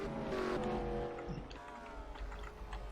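Race cars in a racing video game head into pit road at North Wilkes, engines droning loudly with a high whine that fades into a lower rumbling mix of several cars.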